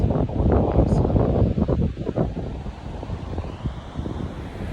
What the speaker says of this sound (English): I don't even know if you can hear this because the wind is so much out here